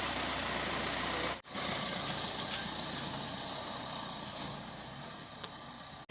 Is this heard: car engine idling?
yes